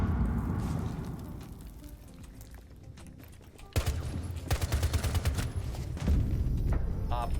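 Gunfire from Frost's low-recoil gun in a shooter video game crackles in rapid bursts over a busy game soundscape, with rattling volleys dominating the second half after a quieter stretch.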